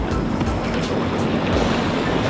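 Waves washing around a boat out on Lake Michigan, a broad continuous rush of water and splashing with wind buffeting the microphone, loud and steady.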